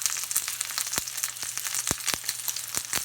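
A steak sears in a hot pan indoors, giving a steady, dense sizzle broken by sharp crackling pops, close and fairly loud with no talking.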